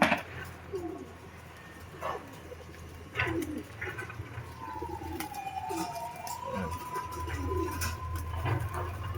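Racing pigeons taking off from a loft cubicle, with soft cooing and bird calls over low outdoor rumble, plus a faint dog bark in the background.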